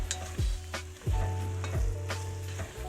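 Cooked ground turkey with chili seasoning being stirred in a hot pan: close sizzling under repeated scraping strokes of a utensil against the pan, about three or four strokes over a few seconds, with no talking.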